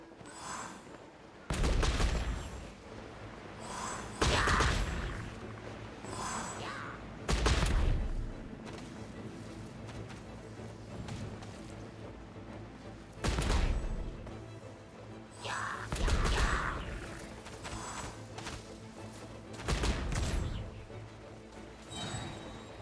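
Bombs explode in Genshin Impact, a string of loud booming blasts arriving in irregular bursts with gaps between them, each one a sharp broadband hit that decays over a second or so.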